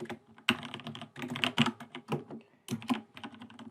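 Rapid typing on a computer keyboard while writing a smart contract, clicking in quick irregular bursts with a short pause partway through, close and fairly quiet.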